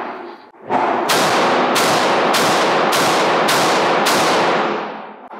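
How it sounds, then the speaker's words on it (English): Six sharp pistol shots from a new Springfield Echelon, fired in steady succession about two-thirds of a second apart, each loud crack ringing out over a continuous roar of range noise. "Today I'm gonna put my first 6 rounds through the new Springfield Echelon"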